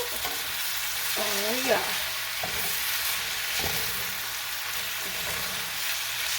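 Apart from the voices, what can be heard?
shrimp dinner sizzling as it cooks in the pan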